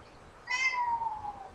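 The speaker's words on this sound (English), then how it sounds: "the other kitten is down there meowing now" A kitten lets out one clear meow, a rising then gliding cry lasting about a second, close and distinct over quiet surroundings.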